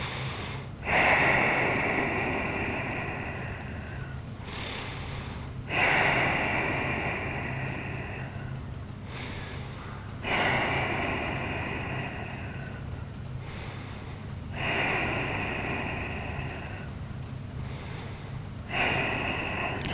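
Slow, deep breaths during a yoga hip stretch, each long exhale rising in a broad airy swell roughly every four to five seconds, close and steady with no talking.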